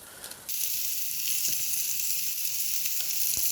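Wagyu sirloin steak and pork tenderloin searing on a Weber grill, a loud, steady sizzle that swells suddenly after a brief quieter start, with a few faint knocks and no talk.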